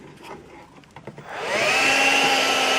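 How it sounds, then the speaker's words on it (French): A Karcher WV2 window vacuum for sucking up dirty water switches on partway through, its steady high-pitched motor whine rising loud and holding a constant tone after some quiet handling noises. "Donc ça c'est l'aspirateur d'eau sale."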